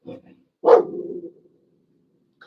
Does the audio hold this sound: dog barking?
yes